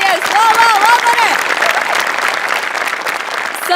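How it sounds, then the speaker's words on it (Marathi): An audience at a Marathi comedy show breaks into loud, sustained applause, clapping and cheering steadily for a few seconds with voices mixed in. "म्हणजे बनेसाठी टाळ्या"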